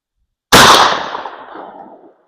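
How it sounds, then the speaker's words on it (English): A single loud 12 gauge shotgun blast fires a Sterling mini slug at an outdoor range with a mod choke fitted, a sharp crack trailing into a decaying echo. "Safety off. First shot."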